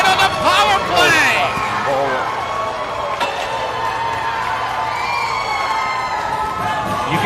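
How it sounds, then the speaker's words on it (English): At a youth hockey championship game in a rink, a crowd of fans screams and cheers loudly, with high shrieks rising and falling, while people talk over it. "You can hear the fans screaming in attendance here."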